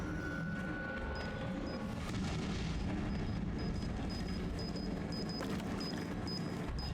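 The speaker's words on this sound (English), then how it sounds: "we'll place some bombs down, I think." Bombs going off in the video game Resident Evil 7, deep rumbling booms and blasts layered over a dense, noisy game soundscape with faint high electronic beeps.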